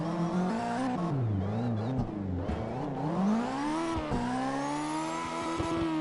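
An RC drift car revving and drifting, a whining motor pitch rising and falling steadily with brief tire scrubs, close and continuous.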